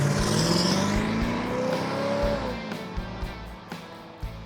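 Full custom truck driving down a lane, its engine rising in pitch as it accelerates and approaches, then fading into several sharp clunks and thumps nearby.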